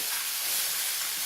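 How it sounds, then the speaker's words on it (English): Garlic scapes and shiitake mushrooms sauté in a pan for lamb burgers, giving a continuous loud, broad hiss of frying with no break, no talk over it. "Then I'm going to add my scapes. We're going to get a nice saute with them as well."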